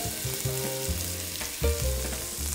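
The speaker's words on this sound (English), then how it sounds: "light olive oil going into a pan. And then some onions." Onions fry in light olive oil in a pan with a loud, continuous sizzle, broken by a few stirring scrapes and a brief louder burst midway.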